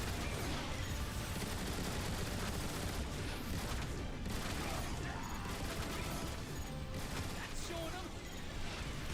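Weapons fire in short bursts in Transformers: War for Cybertron, a dense, chaotic clatter of rapid shots and mechanical crunches continuing throughout, mixed with battle noise and occasional voices underneath.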